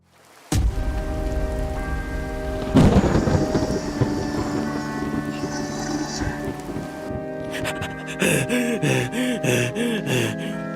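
A thunderstorm in a cartoon sketch opens with a sudden loud thunder crack, then a big rolling boom over steady heavy rain, ending in a run of rapid rumbling pulses.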